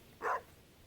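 A dog in the video game Stardew Valley gives one short, soft bark, brief and isolated against quiet background.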